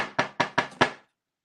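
Four firm knocks land on a door in an even, quick rhythm, close and distinct, before everything falls silent.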